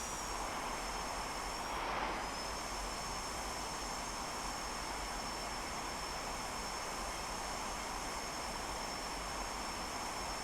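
Boeing 727 engines in the X-Plane 11 flight simulator make a steady, even jet drone with a thin high whine running over it. The drone stays constant throughout, with no talk.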